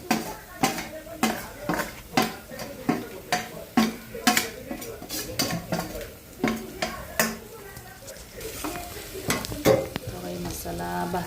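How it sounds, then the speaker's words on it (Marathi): Masala with onion, coriander and tomato frying in a pan over a hot village stove for egg curry, sizzling steadily while a spoon scrapes and stirs in repeated clanking strokes, close and loud throughout. "मसाला भाजायचा आहे."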